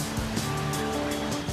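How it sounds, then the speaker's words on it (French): Large waves surge through big river rapids, a loud constant roaring wash with rhythmic crashing swells, close by and with no one speaking. "3 énormes vagues menacent de nous engloutir"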